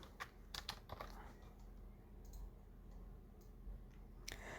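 Someone is typing on a computer keyboard while filling in a wedding invitation address online. Light, close key taps come in short quick bursts with brief pauses between them, and no one speaks.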